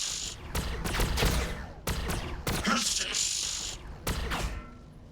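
Rapid bursts of gunfire from units in Warhammer 40,000: Battlesector, Blood Angels against Necrons: several sharp, crackling volleys in quick succession with short gaps, loud and close over a hissing background.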